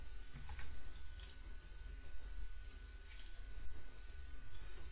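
A computer keyboard typing a MATLAB command, with steady close clicking keystrokes in short bursts over a low background hum, no talking.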